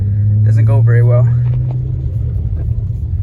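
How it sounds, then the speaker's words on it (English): A BMW 335i with a 6-speed manual gearbox cruising, its engine a steady low drone with road rumble throughout, while a person talks over the first half. "driving our 6-speed manual 335i without any issues now"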